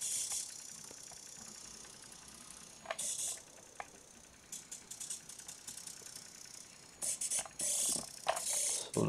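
A Siku Control 1:32-scale RC Scania R-Series truck with a tipper trailer reversing, giving a faint electric whir broken by sharp clicking, ratcheting bursts of gear noise that come and go.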